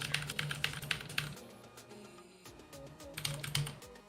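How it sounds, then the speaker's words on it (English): A computer keyboard is mashed rapidly, with dense bursts of fast clattering keystrokes, a lighter pause in the middle, then another flurry, all close and without speech. "I'm gonna spam my keyboard real fast"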